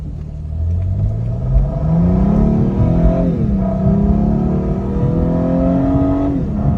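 A Cadillac CTS V-sport, driven without its bumper and a headlight, revs hard while moving. The engine rumbles loud and close, climbing in pitch, easing off and climbing again through several pulls.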